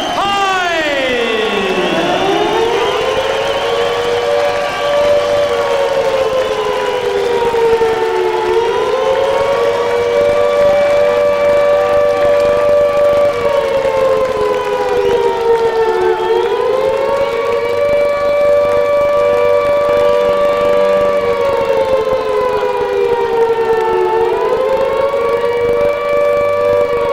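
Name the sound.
sirens sounding in a boxing arena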